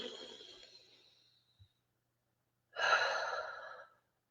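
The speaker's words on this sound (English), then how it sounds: "Let's take a breath." Two deep breaths, a long airy exhale fading away followed after a pause by a strong, close inhale-exhale, breathy and unvoiced.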